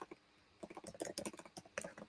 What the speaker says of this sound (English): I'm just typing that there for you